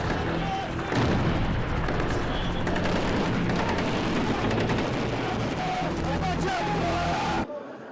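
Sustained heavy gunfire in a firefight, rapid machine-gun bursts and booming shots overlapping continuously for several seconds, loud and close, then cutting off abruptly near the end.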